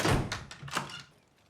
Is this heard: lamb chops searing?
no